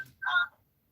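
A single short electronic telephone tone sounds on a live call-in radio show line, a clear burst of under half a second heard alone.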